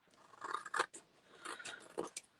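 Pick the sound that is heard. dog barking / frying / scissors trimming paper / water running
scissors trimming paper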